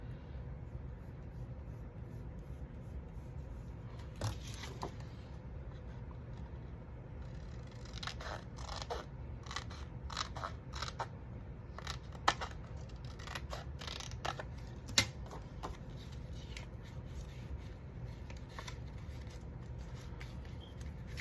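Scissors snipping through paper while a book cover is altered: a series of short, crisp cuts arrives in small irregular clusters against a quiet, hissy room background.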